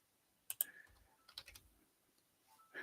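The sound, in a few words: pressing plus and minus keys on a computer keyboard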